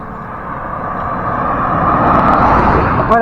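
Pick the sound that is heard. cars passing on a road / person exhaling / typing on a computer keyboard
cars passing on a road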